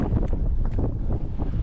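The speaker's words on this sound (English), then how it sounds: "See if I can turn around and have the wind at my back." Wind buffets the microphone while riding an e-bike on a hardtail eMTB trail, a steady loud rumbling roar with gusty surges and no voices.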